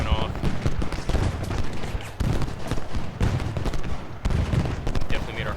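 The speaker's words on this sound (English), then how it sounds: "She's got some shots going off" Musket gunfire in the Ultimate General Gettysburg video game crackles as dense, continuous volleys of overlapping shots, loud and unbroken, with a voice talking over part of the barrage.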